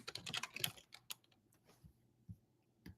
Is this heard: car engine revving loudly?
no